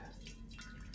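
Water in a cast iron skillet sloshes and drips close by, a brief wet, bubbling trickle that holds at a steady moderate level.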